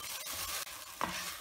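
Brinjal masala being stirred in a non-stick pan, oil separated from the thick spicy eggplant curry; a short scraping stir with soft sizzling underneath, close and steady, with one brief louder scrape near the end.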